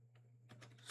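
Typing on a computer keyboard while laying out a food banner design: a few soft, close key taps with a low steady hum underneath, ending in a slightly louder burst of clicks.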